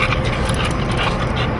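A dog heard up close, with loud, rough whimpering and panting that runs on without a break for under two seconds.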